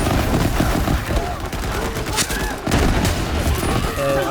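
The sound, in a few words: gunfire in the video game Borderlands 3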